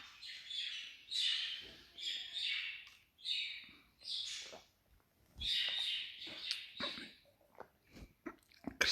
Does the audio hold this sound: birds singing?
yes